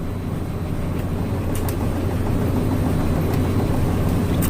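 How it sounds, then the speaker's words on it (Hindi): A five-cylinder main engine of a bulk carrier cargo ship runs in the engine room, a loud, steady, dense mechanical roar with faint rhythmic clicks over it. "ये है एक बहुत महत्वपूर्ण मशीन, मेन इंजन"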